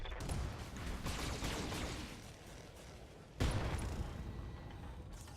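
Heavy AC-20 autocannon fire in the BattleTech video game, aimed at a Highlander mech: a continuous dense barrage of booming gunfire with a sharp louder blast partway through, loud and close.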